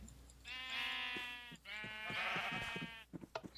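Two long, wavering sheep bleats from a Minecraft sheep farm, loud and close, followed by a few soft clicks at the end.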